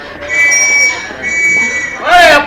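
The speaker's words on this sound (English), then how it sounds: "It was nearly time for the train to pull out." Train pulling out of a station in a radio drama, a long steady whistle tone over rumbling carriage noise, ending in a sharp loud screech of wheels or brakes, with a voice speaking underneath.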